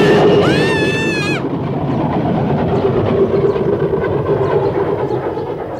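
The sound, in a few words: train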